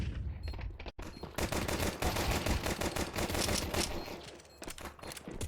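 Dense gunfire from a Counter-Strike match on the Nuke map, with loud rapid overlapping shots and automatic bursts. The firing continues almost without a break after a brief opening pause.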